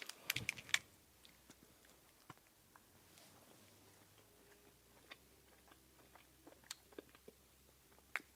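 Quiet close-up chewing of a WW2 US D ration chocolate bar, a dense bar of chocolate with oat flour, with a few sharp crunchy bites early and then soft, irregular clicks and chews throughout, no talking.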